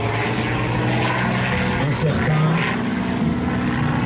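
A propeller-driven airplane drones past at the La Ferté-Alais air show, with a loud, steady engine hum throughout and someone talking over it.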